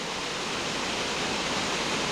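Niagara Creek, a gold-mining-country stream on Vancouver Island, rushes below a high trestle on its way to a big waterfall: a steady, dense broadband water roar heard from above, continuous and unbroken.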